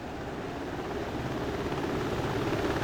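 Helicopter rotor and turbine drone during a touchdown in the DCS World flight simulator, a steady broadband whir that holds loud and even throughout, with no talk.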